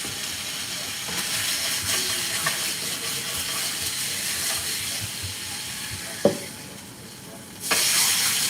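T-bone steak frying in a pan, a steady broadband sizzle and hiss that runs throughout, with a sharp clack near the end and the sizzle swelling louder in the final second.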